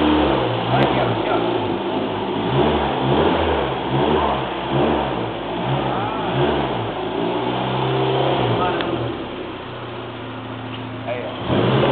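A car engine revs in a series of rising and falling pulls with a steady mechanical throb, loud and close, then settles toward a lower idle near the end.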